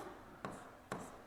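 Pen or marker strokes writing out a chemical reaction, two short scratchy strokes close together, faint against a steady hiss.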